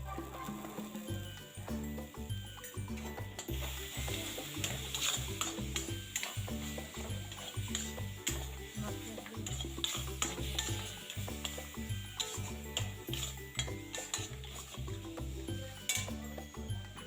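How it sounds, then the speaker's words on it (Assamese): Chopped taro stir-fried in a pan for an Assamese home-cooked dish, with steady scraping of a spatula and a soft sizzle running throughout over low background music, no one speaking. "এয়া মই কচু যিখিনি তিয়াই থৈছিল এইখিনি বহাই দিলো আৰু অকমান ভাজি লৈ মই পানী ঢালি দিম তাত"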